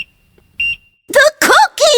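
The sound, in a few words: oven timer going off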